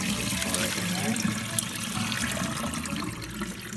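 Water and soaked seaweed for Korean beef seaweed soup poured steadily into a fine mesh strainer, a continuous close splashing rush without pause.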